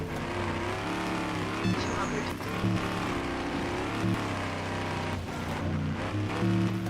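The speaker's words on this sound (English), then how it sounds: "Oh, our engine's like dying." A failing car engine in a racing video game drones loudly and steadily, its tone wavering with brief bursts and dips as it runs.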